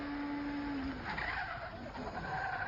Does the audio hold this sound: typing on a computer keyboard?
no